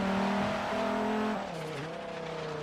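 A 2014 Terradyne Gurkha LAPV armoured vehicle in the racing game Forza Horizon 3 drones steadily while climbing uphill, its loud engine tone sustained then dipping and shifting pitch as it changes gear.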